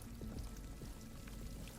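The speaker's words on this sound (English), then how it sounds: "A lot of water in here." Water runs steadily inside a cave in Horizon Forbidden West, a soft, continuous trickling and pouring wash with faint drips, quiet and even throughout.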